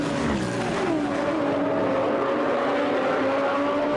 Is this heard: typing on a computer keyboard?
no